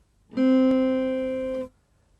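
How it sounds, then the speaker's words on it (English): One plucked acoustic guitar note, second string held at the first fret, sounds close and alone, ringing evenly for over a second with a small tick partway through before it is damped. "The next note is the second string, 1st fret."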